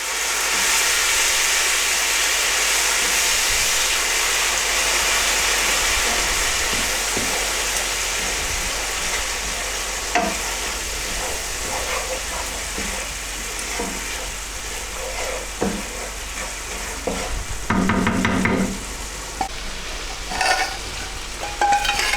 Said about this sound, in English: Now I'm going to add a ladle full of the curry based gravy that we made earlier.